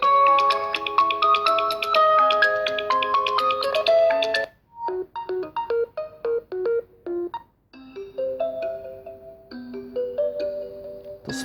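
Ringtones played at full volume through the speaker of a Realme 6 Pro phone: bright, melodic electronic tunes, one long phrase, then short clipped note bursts after brief pauses, loud and clear with no talking.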